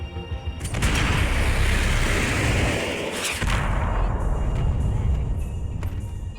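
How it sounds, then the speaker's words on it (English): Gunfire and booming blasts from the video game Max Payne 3, played on Hard, come in a loud, dense, rumbling barrage that fades briefly and then swells again, with sharp cracks scattered near the end. "Shots. That was too close."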